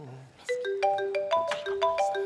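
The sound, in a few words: telephone ringing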